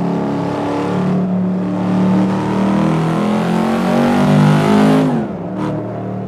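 A 2002 Chevrolet Camaro SS V8 engine revving and holding high rpm, a loud close roar that climbs and sustains before dropping away sharply near the end, with no talking.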